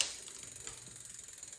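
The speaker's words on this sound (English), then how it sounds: "So the chain falls off." A bicycle chain on a pedal mountain bike being converted to an e-bike slips off the gears, giving a rapid, even clicking rattle like a ratchet, close and fairly loud for a brief moment.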